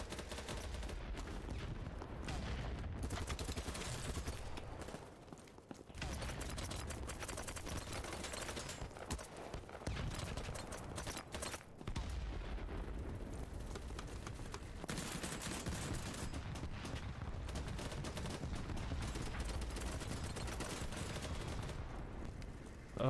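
Sustained gunfire fills a video game battle, dense bursts of rapid automatic shots rattling almost continuously at loud, close range with brief lulls between volleys.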